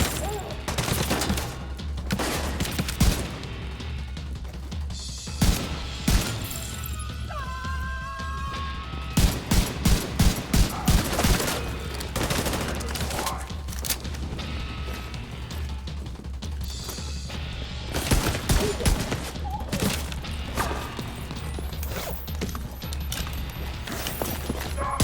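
Gunfire from The Division 2 video game: repeated loud shots and rapid automatic bursts, with a dense volley midway, while a player talks over the action.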